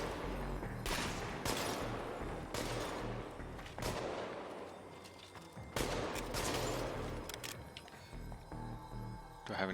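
Bursts of gunfire in the video game Chernobylite, several loud volleys and single shots cracking out at irregular intervals, with some speech mixed in.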